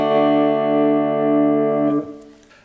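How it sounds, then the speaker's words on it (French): Clean sustained chord from an Ibanez Gio GRG121 electric guitar on its neck pickup alone, ringing steadily with rich overtones before being muted, leaving a fading scratchy tail. "Et voilà le micro manche tout seul."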